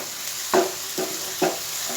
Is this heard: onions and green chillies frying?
yes